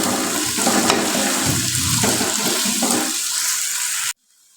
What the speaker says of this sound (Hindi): इसमें मैं ऐड कर रहा हूँ 1 गिलास पानी का